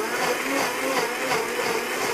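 A Blendtec HP3A blender runs a steady high-powered pulse burst to clean its jar, blade and lid, a loud continuous whirring roar with no voices.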